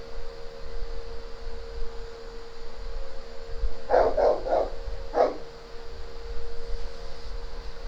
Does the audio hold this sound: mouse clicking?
no